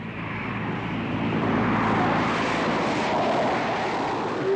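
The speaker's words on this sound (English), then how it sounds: "It's a plane. I think it's just some sort of passenger jet. It's very low." A low-flying passenger jet roars loud and close, a broad steady engine rumble swelling slightly toward the middle and sustained across the whole stretch with no voices.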